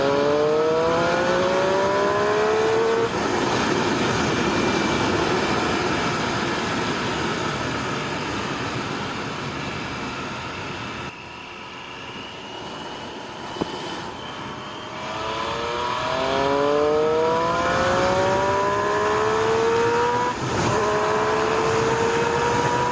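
A 2017 Triumph Street Triple RS 765 motorcycle's engine revs hard past 6000 rpm, rising in pitch in two sustained pulls separated by a brief dip, loud and close with wind noise and no talk.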